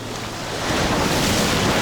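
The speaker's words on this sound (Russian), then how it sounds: "О-о, смотрите, какая волна на нас движется" Ocean surf at a Dubai beach rolls in close, a broad wash of crashing water and wind buffeting the microphone, swelling louder after the first half second and staying steady, with no talk.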